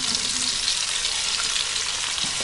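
Tofu frying in a pan with oil, onion, chili, tomato and petai, a continuous dense sizzle with faint stirring, close and steady with no talking.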